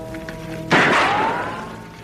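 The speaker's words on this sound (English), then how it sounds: "The idea is to draw and fire before this coin can hit the ground." A single sharp gunshot, fired at a falling coin in a 1950s Western radio drama, cracks out loud and close after a quiet start and rings off in a long fading tail.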